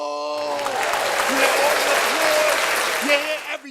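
Battle rap crowd in New York roaring with cheers and applause, a dense, loud wall of noise sustained throughout with whoops and shouting voices rising above it.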